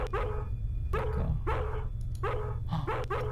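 Repeated dog barks in the Harvester video game, five sharp close barks in an irregular rhythm over a steady low background hum, with no talking.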